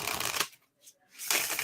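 Tarot cards being shuffled by hand in two brisk, close rustling bursts separated by a short quiet pause, with no voices.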